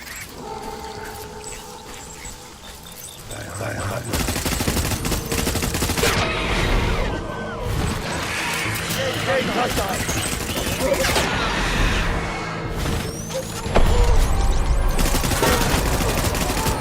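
Sustained gunfire and bursts in the video game Death Stranding, loud and dense over a rumbling background, with shots stacking into a steady barrage and a sharper burst near the end; a voice speaks briefly.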